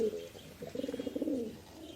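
A racing pigeon coos softly up close, a short throaty burst of rapid pulsing notes after a brief lower call, alone in a quiet loft.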